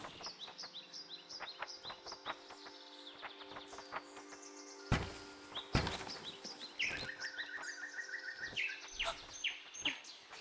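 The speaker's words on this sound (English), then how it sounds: "Birds!" Cartoonish birds in the game Bye Sweet Carole chirp and tweet in quick, bright repeated calls over a soft musical backdrop, with a couple of sharp louder hits midway.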